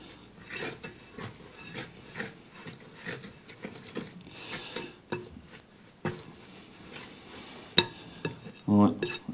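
Carp bait powder is worked by hand into a dough mix in a bowl, giving soft irregular kneading, scraping and clinking sounds at close range, with a few sharper knocks near the end.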